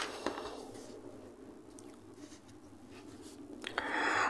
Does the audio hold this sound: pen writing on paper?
yes